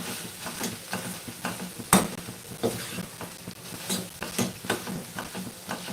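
Tomatoes being mashed with a spatula in a pan, repeated soft scraping and squelching strokes over a low sizzle, with one louder knock against the pan.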